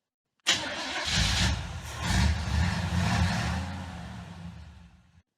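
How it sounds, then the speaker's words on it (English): A truck engine turns over and catches with an abrupt start, then settles into a loud, steady rumble that runs for several seconds before slowly tapering off, with no talking. "let's start the truck."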